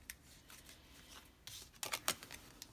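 Tarot cards are shuffled in soft, quick riffling bursts, faint and close, with a few sharper card snaps toward the end.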